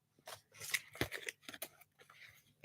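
Scissors snip through fabric while cutting out fursuit paw toes, a quick series of close, crisp cuts and rustles in an irregular rhythm, fairly faint and without talking.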